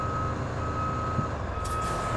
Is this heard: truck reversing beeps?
yes